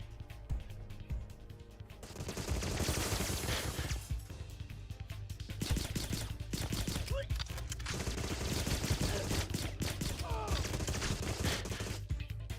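Sustained bursts of rapid automatic gunfire from the video game Agent 64, loud and dense, rattling almost continuously with brief lulls and scattered impact sounds mixed in.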